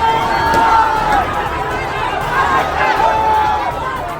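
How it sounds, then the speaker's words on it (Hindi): An agitated crowd in a street surrounding police during an uproar, a continuous roar of shouting and babble close by with raised voices rising above the din. "भीड़ जबरदस्त बवाल कर रही है"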